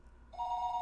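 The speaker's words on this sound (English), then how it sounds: "The sound of the phone ringing gets clearer and clearer the longer you go to sleeping." A phone starts ringing in a visual novel game, a steady electronic ring tone rising out of a low background hum and holding for under a second, fairly faint.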